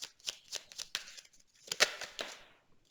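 Tarot cards are shuffled and drawn close up, a quiet string of quick papery riffles and slaps with short pauses between bursts.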